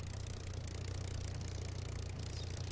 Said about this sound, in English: I know that engine sound